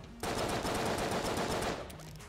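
Rapid automatic gunfire with shadow bullets in the video game Enter the Gungeon, a dense, loud stream of shots that runs steadily for about two seconds before tapering off.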